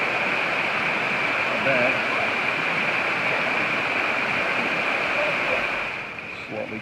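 A waterfall at Litchfield National Park roars as a steady, dense rush of falling water, loud and unbroken, with a brief spoken remark near the end.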